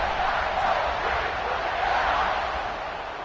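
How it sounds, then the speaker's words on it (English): A stadium crowd in the College Football 26 video game buzzes as a dense, steady roar of many voices, loud and continuous, fading slightly at the end. "this crowd is buzzing after that last score"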